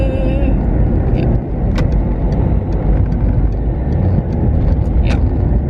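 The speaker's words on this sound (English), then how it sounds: "oh my god, there is so much traffic" Road traffic during a drive under lockdown, a loud continuous roar of engine and tyre noise inside a moving car with other vehicles passing, steady throughout with faint brief higher squeaks.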